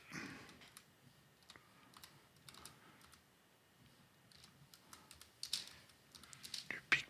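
Soft keystrokes on a computer keyboard in scattered short runs, faint and somewhat distant against a low hiss, growing a little busier toward the end.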